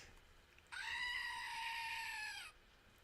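A goat named Pistachio lets out one long, sustained bleat lasting nearly two seconds, clear against a quiet background with no talk.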